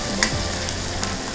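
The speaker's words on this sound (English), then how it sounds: "After the onions, I will add half a teaspoon of salt, mix them gently and allow them to cook until golden brown." Onions with half a teaspoon of salt fry in a pan with a steady, loud sizzle, while a utensil stirs and scrapes through them in a couple of brief, sharp clicks.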